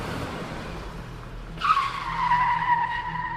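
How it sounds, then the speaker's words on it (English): A car's tires skid and squeal as it brakes hard at a gas station pump, a loud sustained screech that starts abruptly and holds steady to the end, with no one talking. "The car screeched to a halt at the pump,"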